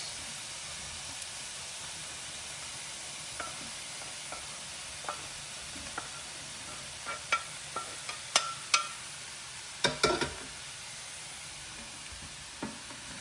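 Cauliflower, green beans and carrots stir-fried in a pan, a steady hiss of sizzling with scattered clacks and scrapes of a utensil that cluster toward the middle, close up and with no voices.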